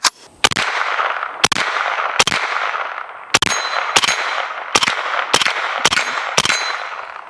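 An AK-pattern pistol caliber carbine fired with a Dead Air Wolverine PBS-1 suppressor: about nine loud, sharp shots at an uneven pace, each followed by a ringing tail.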